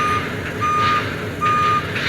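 Truck reversing alarm at a busy shipyard port, steady repeating beeps over loud constant industrial rumble and machinery noise, no talking.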